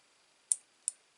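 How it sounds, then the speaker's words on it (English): Scissors trim small knobbly bits of book cover material, making two sharp, bright snips about a third of a second apart, close and clean against near silence. "just take a pair of scissors"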